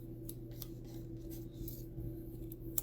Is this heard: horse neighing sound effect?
no